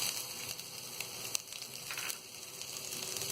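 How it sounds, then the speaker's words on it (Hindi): Green chillies hit hot frying oil with golden brown onions, giving a continuous crackling sizzle with a few louder pops and bursts scattered throughout, close and moderately loud with no voices. "अब हम इसमें ये हरी मिर्ची डाल देंगे।"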